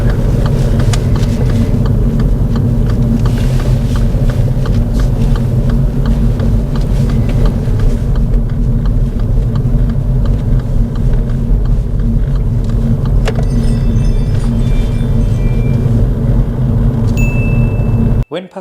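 A car on a driving lesson heads toward a roundabout, with a steady low engine and road rumble at close range, a faint chime, and people talking over it.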